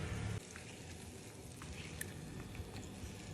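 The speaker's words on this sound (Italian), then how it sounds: "E facciamo soffriggere" Potatoes and pancetta frying in a pan, a soft, continuous sizzle with light crackles scattered through it, heard close and steady.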